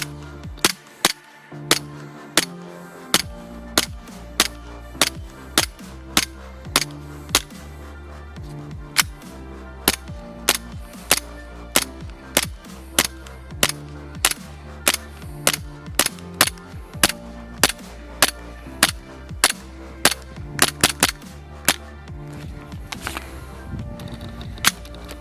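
An Umarex Beretta APX RDO gas blowback airsoft pistol fires BBs in a steady series of sharp, close cracks, each followed by the snap of the slide cycling, spaced roughly evenly across the stretch.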